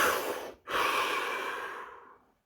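A single deep breath, a long drawn inhale that pauses briefly and then flows into a slow, steady exhale, close and fairly loud with no talking.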